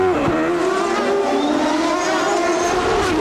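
Onboard a 1993 CART race car driven by Rahal at the Vancouver street circuit, a loud, steady high-revving engine drone runs throughout, its pitch sliding slightly as the car accelerates, with no talk.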